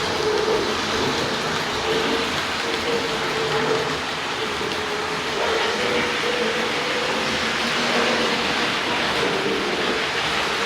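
A Hornby Bo-Bo electric model locomotive running on rails under catenary, giving a continuous whirring, rumbling drone with a steady clatter that holds at an even, close level throughout, with no talk.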